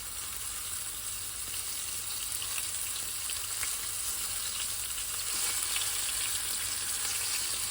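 Fish fillets sizzle in a hot pan at a lakeside catch-and-cook, a steady dense frying hiss that holds without pause for several seconds, close and fairly loud, with no voices over it.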